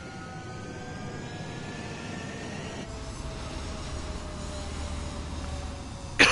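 In the Ace Combat 7 video game, a jet aircraft takes off with a steady engine roar that thickens and deepens partway through, at moderate level, with no talking.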